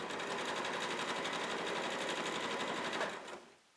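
A sewing machine stitching fabric for a child's chef's hat, a fast, even close mechanical whir that runs steadily for about three seconds and then winds down to a stop.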